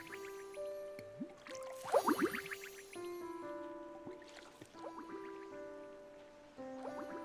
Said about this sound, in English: we're just going to water as much stuff as we can